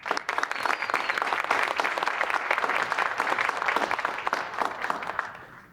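An audience applauds to welcome a college president at Texas Southmost College, with steady, full clapping from a large crowd that tapers off at the end.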